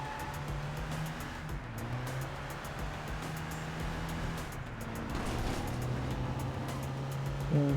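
A car driving around in the open-world game Crackdown, its steady engine drone and road noise continuing throughout at an even, moderate level, with no talk.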